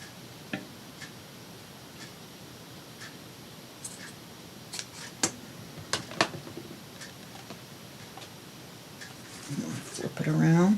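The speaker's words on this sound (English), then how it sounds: "let's cut a piece the same length as this one" Scissors snip through a length of lace during a papercraft project, giving a scattering of short, sharp clicks and cuts that build into a louder rustle near the end, with quiet voice and handling noise around them.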